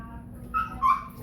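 A Shih Tzu with an eye abscess lets out two short, high nasal whimpers close by, the second slightly longer, against a quiet room.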